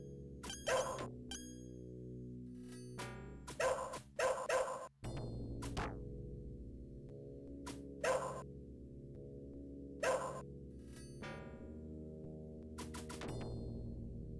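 Repeated short barks from a ninja's dog in the Shadow Dancer arcade game, sharp bursts spaced out over steady synthesized music.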